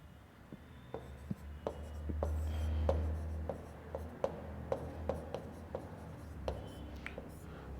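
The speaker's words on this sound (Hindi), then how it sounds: "डूंगरपुर को मैं नीचे लिख देता हूं एक बार।" Chalk or marker tapping and scraping on a board during a Rajasthan geography lesson, a steady series of short sharp strokes at close range, with a low hum in the room and no talk.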